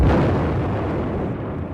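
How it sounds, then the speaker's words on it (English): The robot Cortex blows up in a film, a loud, dense, rumbling explosion that roars continuously and slowly fades, with no voices over it. "And it exploded."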